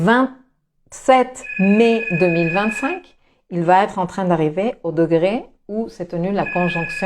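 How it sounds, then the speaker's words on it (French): A telephone rings with a steady electronic tone in two bursts, partly under someone talking in French throughout. "désolé pour le téléphone"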